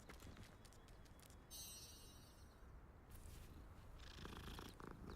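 A cat in the Hogwarts Legacy game purrs while being petted, a low, continuous rumbling purr, quiet and close, with faint chimes and background game ambience.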